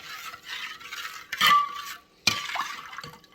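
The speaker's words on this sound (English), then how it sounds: "So let's just mix away for a few more minutes." A spoon stirs salt brine made with cold filtered water, giving steady swishing and liquid churning with a couple of sharp clinks against the container, close and moderately loud, with no talking.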